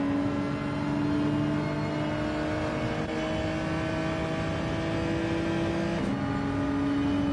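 Race car engines in Gran Turismo 7 drone steadily at high revs, with a Genesis among the cars, the whine holding a constant pitch and shifting once partway through a continuous, fairly quiet stretch with no talk.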